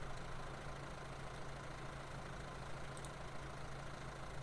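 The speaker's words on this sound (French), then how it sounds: "parce que la batteuse elle roule." Combine harvester engine running in a farming video game: a faint, steady low engine drone with a constant hum, unchanging for the whole stretch, with no talk.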